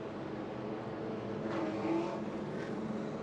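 Race cars roar around Charlotte Motor Speedway during the 134-lap, 200-mile Carolina Education Lottery 200, a steady broad engine drone with a swelling pass near the middle and no talk.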